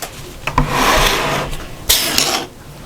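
A sewing machine stitching patchwork fabric for a shopper bag runs in two close, steady whirring bursts separated by a short pause, with small mechanical clicks at the starts.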